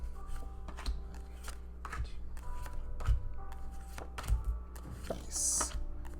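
Tarot cards shuffled by hand during a weekly reading, a steady run of crisp riffling and tapping taps up close over a low room hum, with no speech.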